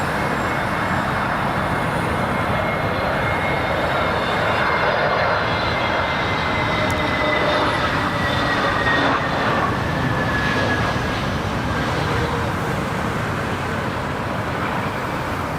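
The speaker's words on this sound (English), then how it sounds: "got an Aerlingus crabbing" An Aer Lingus airliner lands at Dublin Airport, crabbing in a crosswind, its jet engines a steady, loud, broadband roar that holds throughout at a moderate distance.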